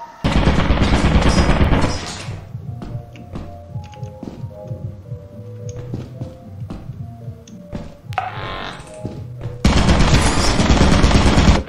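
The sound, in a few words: turret firing in the video game Lethal Company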